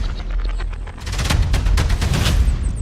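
Gunfire in a Daredevil trailer, loud rapid bursts of shots crackling in quick succession, the volleys growing denser partway through, with no talk over them.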